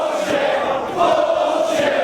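A wrestling crowd at an ROH Redemption event roars in a steady, dense mass of cheering and shouting that swells slightly partway through, loud and continuous with no single voice standing out.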